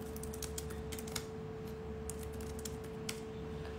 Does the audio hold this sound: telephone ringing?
no